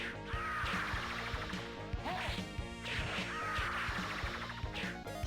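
Sword strikes landing on enemies in the arcade game Warrior Blade, a loud, busy stream of repeated hits and crashes over continuous game music.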